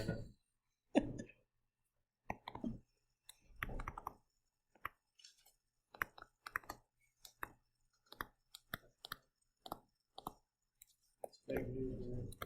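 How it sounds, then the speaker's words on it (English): Scattered close keyboard key presses and clicks in an irregular rhythm, some short bursts of quiet talk between them, and a rougher rustling at the end. "It's kind of noticeable when I'm sitting here pressing the keys and staring at it."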